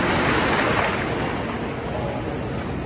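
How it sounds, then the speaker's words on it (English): Ocean waves surge and wash steadily around someone standing in the water among rocks, a loud, continuous roar of surf with wind buffeting close against the microphone throughout. "You got to keep your balances when them waves are hitting you."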